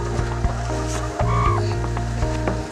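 Chickens cluck and call at a poultry farm, several birds close by producing a short rising squawk and scattered clucks over a constant low mechanical hum.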